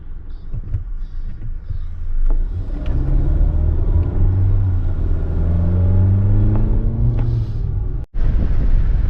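A car rolls along slowly with a steady low engine rumble and road noise close inside the cabin. The engine note rises and falls gently, and there is a brief dropout near the end.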